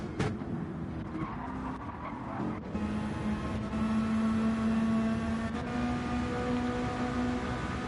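A GT3 race car brakes into a corner in a racing video game: a harsh tire squeal and skid at first, then a sustained engine drone with a steady pitched whine, loud and continuous, no voices.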